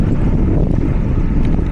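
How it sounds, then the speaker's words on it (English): Headwind buffets the microphone of a cyclist riding toward the Mexican border, a loud, continuous low rumble and roar with no other sounds. "Wind's directly into me at the moment"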